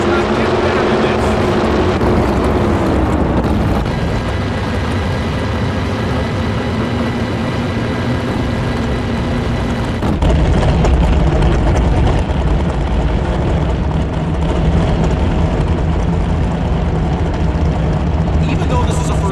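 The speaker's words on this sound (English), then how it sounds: "The roar of the engines firing up" Racing engines roar loudly and steadily in the NHRA Championship Drag Racing game, a dense continuous drone with a shift in pitch and intensity around the middle, with a voice talking over it.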